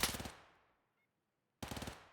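Two rapid bursts of automatic fire from a 9mm Vector with a 50-round magazine in a competitive shooter match on the Fort map. Each burst is loud and close, and a silent gap separates them.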